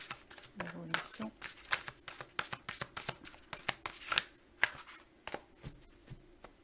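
Tarot cards are shuffled and drawn one by one, producing quick papery riffles and crisp slaps in an irregular rhythm, close and fairly quiet, with someone speaking softly over them.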